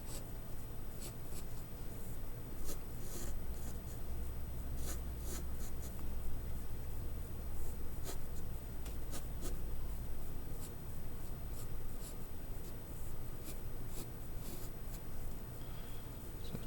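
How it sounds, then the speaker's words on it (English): A pencil or pen draws a design by hand, a continuous close scratching and scribbling on paper with irregular strokes that goes on steadily throughout, with no voices. "I need to draw it on here backwards from what it's going to be printed as."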